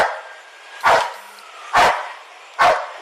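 A police dog at an arrest scene barks three times in loud, evenly spaced single barks close to the microphone, with quieter background noise between them.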